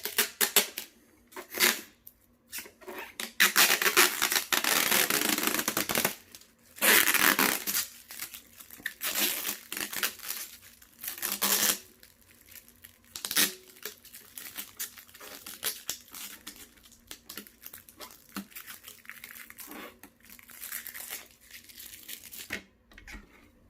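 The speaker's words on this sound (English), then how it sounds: "let's go ahead and remove these side protectors here. And then next we will remove this tape here." Protective film and tape being peeled and pulled off a Golongele robot vacuum, close crinkling and tearing bursts in irregular runs separated by short pauses.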